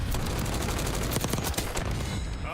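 Dense automatic gunfire in Call of Duty Black Ops 6 hardpoint multiplayer, rapid overlapping shots and bursts rattling loud and continuous with booming low thuds beneath.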